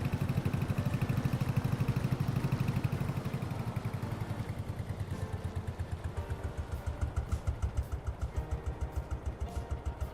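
A Porsche tractor engine in Farming Simulator 22 chugs with a steady rhythmic putter, a mid-level mechanical drone whose pulsing grows more distinct as it drives along.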